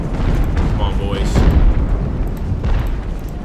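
Cannon fire booms in the Ultimate Admiral Age of Sail game during an American Revolution battle, with a loud blast near the middle followed by rumbling battle noise and a fainter later report.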